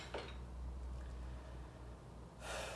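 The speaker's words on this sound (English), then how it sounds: "Gonna do some breathing." Deliberate breathing exercise: a soft breath near the start, a long quiet stretch, then a stronger breath burst at the end, close and alone.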